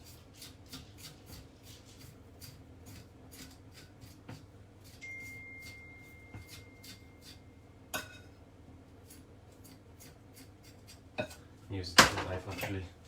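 A knife scrapes against the scales of a salmon in a kitchen, with repeated quiet rasping strokes and light metallic clinks over a low background hum, building to a louder burst of scraping and clatter near the end.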